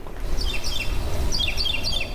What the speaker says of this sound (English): Monday morning in South City, birds chirping while crime scene tape flutters in the breeze.